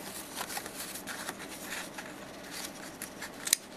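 Scissors snipping along a line through paper, a steady run of close, crisp cutting strokes with a sharper snip near the end.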